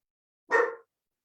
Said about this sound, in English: My dogs say hi.